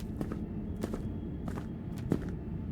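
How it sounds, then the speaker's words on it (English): Video game footsteps land at a steady walking pace, soft and distant, about four steps over a low rumbling background. "Still, footsteps are still distant enough that I'm okay with that."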